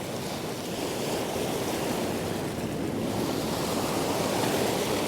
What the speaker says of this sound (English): there's big waves rolling in